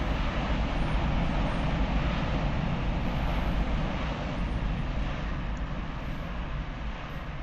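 A Cathay Pacific Cargo 747-8F taxiing in the flight simulator MSFS 2020, a steady low engine rumble and broad whooshing drone that holds even and continuous, slowly easing slightly in level, with no voices.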